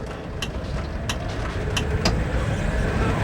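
A car pulls away without the clutch pedal being used, its engine holding a steady close drone that builds slightly, with a few faint clicks above it.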